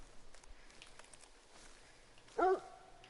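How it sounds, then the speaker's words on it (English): A single dog bark rings out in theHunter: Call of the Wild, one short sharp yelp rising above a quiet outdoor game ambience with faint footsteps. "why does it sound like the dog's coming from over here?"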